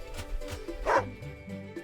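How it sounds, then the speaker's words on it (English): A dog in the game Wargroove gives a short yapping bark over the game's background music, one quick close yip rising out of the score. "Woof! By the way, you have a dog."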